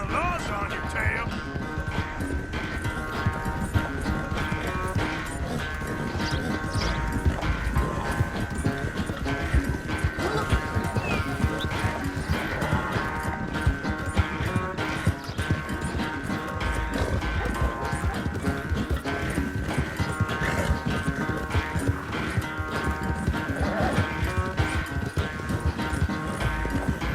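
Horse hooves clip-clop steadily during a ride in the video game Red Dead Redemption 2, a continuous rhythmic trot under game music and ambience.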